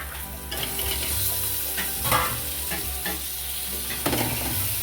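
Tomatoes frying and being stirred in a pan for mutton biryani: a continuous close sizzle with irregular scraping and clinking from the stirring, heard alone.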